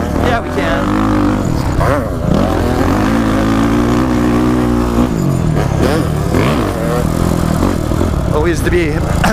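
Motorcycles race at Glen Helen Raceway with loud, close engines revving and shifting throughout, and talk continues over the roar.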